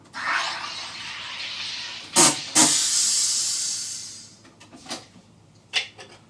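A home soda water maker carbonating, giving a loud sustained hiss with sharp bursts of gas venting between, then a few short hissy puffs as it finishes.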